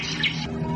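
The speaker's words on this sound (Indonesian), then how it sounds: "Oh, suara burung itu bagus sekali" Short bird song from a radio drama, a bright, clear chirp standing alone against a quiet background, rising briefly in the middle before trailing off.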